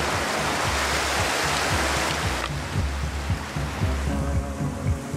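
A waterfall in a canyon in Alaska's Brooks Range, a loud, steady rushing roar of falling water, close and continuous, with no voices.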